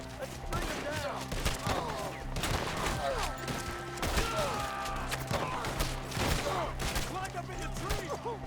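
Red Dead Redemption 2 shootout: dense bursts of gunfire crackle and boom continuously while voices shout throughout.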